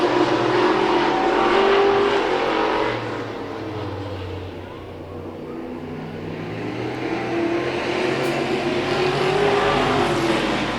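Race cars roar continuously around a short track during a Hobbyfest feature event, several engines overlapping near and far with rising and falling revs as the field battles for position, with no talk over them.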